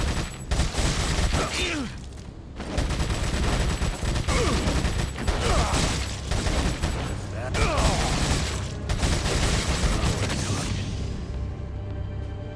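Repeated loud gunshots and bursts of fire in the video game Resident Evil 4, coming in clustered volleys separated by short pauses, with mechanical clatter between the shots.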